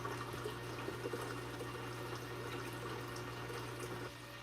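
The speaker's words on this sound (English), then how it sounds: "I was able to pour it easily right back into the aquarium right here." Water pouring back into a home aquarium, a steady broadband splash and gurgle held at a constant level throughout, with a low mechanical hum underneath and no voices.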